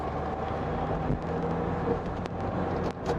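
A car pulls away during a driving lesson, its engine and road rumble steady and close, with faint passing traffic and no talking.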